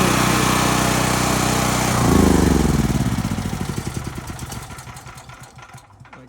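A backup electrical generator engine runs loudly close by, its steady drone shifting around two seconds into a pulsing, choppy idle that fades slightly toward the end.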